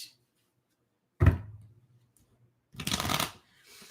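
Playing cards are shuffled up close in a quiet room: a sharp riffle snap, a pause, then a longer fluttering riffle and a soft trailing rustle.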